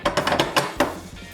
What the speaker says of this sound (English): And then you're going to put the top half of the shell on